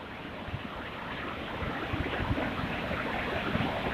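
Vigorous water flowing through a valley in northern Pakistan, a steady broadband rush with soft turbulent bursts and some wind, moderately quiet and continuous.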